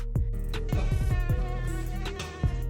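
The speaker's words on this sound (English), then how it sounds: "I think that was another bee." Buzzing of a bee flying close by indoors, a steady, loud insect drone with sharp tonal wavering over a few seconds, alone with no talking.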